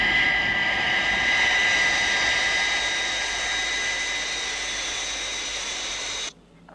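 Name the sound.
jet aircraft flying at high altitude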